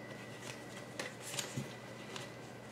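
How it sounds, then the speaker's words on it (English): Living Reiki Healing cards being shuffled and pulled: soft, close papery riffles with a few brief crisp flicks, quiet and alone with no talk. "I'm also going to pull a Living Reiki Healing card"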